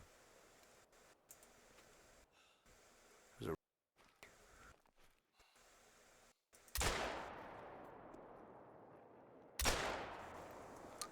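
Two sharp, loud gunshot blasts from a video game shooting sequence, each trailing off in a decaying echo, set against faint low background noise and scattered small clicks.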